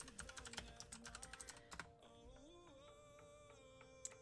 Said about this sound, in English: Let's type it in.